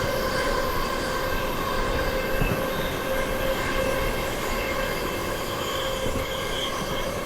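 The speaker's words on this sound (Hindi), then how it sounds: "यहाँ पे क्रॉसिंग हो रही है चेन्नई डबल डेकर के साथ" Aboard the SMVT–Howrah AC Superfast Express as it crosses the Chennai Double Decker: a steady, loud roar of wheels on rails with faint squeals, continuous throughout, no talking.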